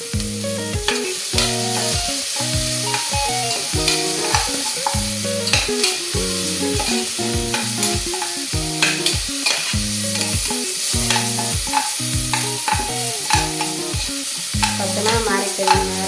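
Spices crackle and sizzle steadily in hot oil during tempering for a Kerala goat trotter soup, with a constant loud frying hiss under continuous music and no voices.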